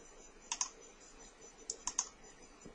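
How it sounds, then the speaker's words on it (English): Two pairs of quick computer mouse or keyboard clicks, crisp and close, with a pause between pairs, over quiet room hum while removing an item from an order invoice. "if you need to take something off the invoice, you will just click on here and you'll hit delete"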